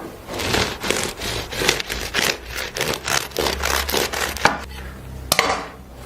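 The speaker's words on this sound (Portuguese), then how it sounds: "vou cortar de verdade um deles e você vai escutar a crocância ao corte que eu fizer" A knife cutting through a crispy baked croissant, loud and close, with rapid rhythmic crunching and crackling of flaky layers ending in a few sharp snaps as the blade finishes the cut.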